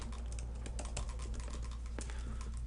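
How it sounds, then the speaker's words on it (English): Typing on a computer keyboard gives a steady run of quick clattering keystrokes over a constant low background hum, with no talking. "I'm terrible about typing whenever I am on live"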